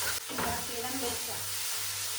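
Fried meat with turmeric powder sizzling in oil in a home kitchen pan, a steady crackling hiss with a brief stir near the start, fairly loud and continuous.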